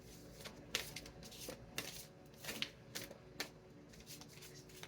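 Tarot cards being shuffled close up, with a series of soft riffling and slapping bursts at an irregular rhythm, quiet and without voices.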